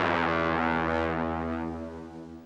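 A Soundpaint Kick Vermona kick drum layer rings out as one loud, distorted, tonal hit with a bright attack that decays smoothly over a couple of seconds, alone with no voices.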